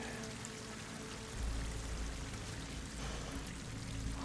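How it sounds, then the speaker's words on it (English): Water pours and trickles into a cave in a video game, a steady, fairly quiet wash with faint dripping over a low rumble, swelling slightly toward the end, with no voices. "Water's coming in."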